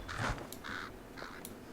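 A bird cawing in a retro Nintendo video game fight, three short harsh bursts spaced apart, game-audio quality with no talking.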